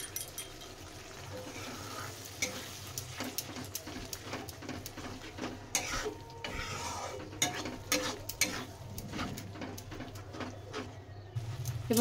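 Onion and cashews fry in hot oil for a jackfruit kurma, giving a steady soft sizzle with scattered crackles and the occasional clink of a spoon stirring in the pan.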